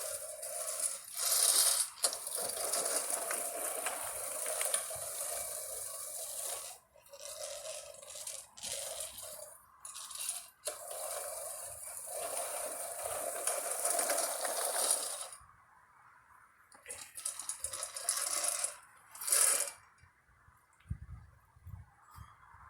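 An antique push lawn mower rolling along with its spinning reel blade, a rattling, clicking mechanical whir in uneven bursts as it is pushed back and forth, fairly close.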